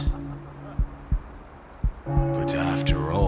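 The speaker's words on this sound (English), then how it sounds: "if you listen closely, you can hear his heart beating in the distance" Distant heartbeat: a slow series of dull, regular thumps over a steady low hum, then louder beats continuing under a spoken voice.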